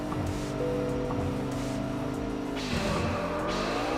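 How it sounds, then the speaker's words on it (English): A car in Wangan Midnight drops sharply from a steady engine drone as it brakes hard, with the engine note falling away and then picking back up. "Big, heavy braking there."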